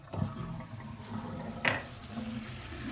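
Water running and draining through a newly installed bathroom sink faucet and drain, a soft steady wash of flowing water with a faint clunk, quiet and close.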